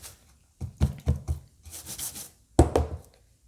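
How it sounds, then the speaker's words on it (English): A pan of Trader Joe's gluten-free pumpkin bread batter gets shaken, giving close dull thumps and rubbing scrapes in a few quick clusters. "We'll give it a good shake."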